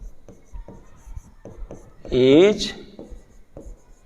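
Marker or chalk scratches across a board with short, quick strokes, heard close under a teacher's ongoing lecture speech.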